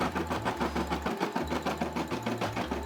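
A Brother SE600 embroidery machine stitches the white part of a Tommy Hilfiger logo with a fast, steady mechanical chatter and a low motor hum that shifts in pitch. It sounds close and carries on with no talk over it.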